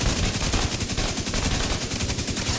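Rapid automatic rifle fire from The Division 2 shooter game, a dense, fast run of loud repeated shots rattling continuously with no pauses and no voices.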